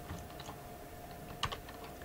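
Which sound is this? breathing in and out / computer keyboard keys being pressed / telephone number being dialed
computer keyboard keys being pressed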